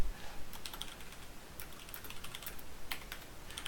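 Keyboard typing in a pixel-art text editor, a steady run of light, quick key clicks, close and fairly faint, with no voices.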